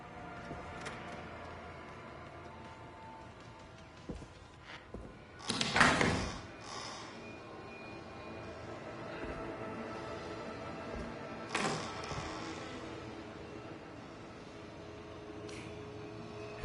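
Doors tried in the video game Killer Frequency: a few scattered thumps and rattles, one louder clunking jolt near the middle and another brief knock later, over a low, quiet room hum.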